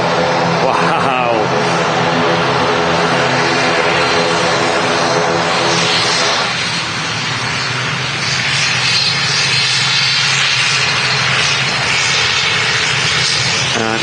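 A loud, steady aircraft engine roar at Manchester Airport, with a droning propeller-like tone early on that thins into broad rushing noise, and people talking over it.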